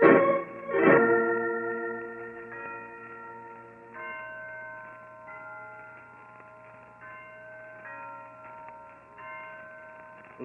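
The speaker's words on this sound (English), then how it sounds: "Listen to those bells, Holmes." Church bells ring from an old bell tower, starting with a loud struck peal whose tones hang and then decay into a long, sustained shimmering hum with faint repeated strikes, heard alone as a radio drama effect.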